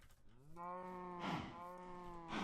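Cows mooing in a modded Minecraft Skyblock game, a long drawn-out bovine moo with a second call overlapping, loud and close with no talk.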